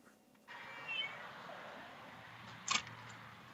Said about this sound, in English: this cat is so noisy, it's not even funny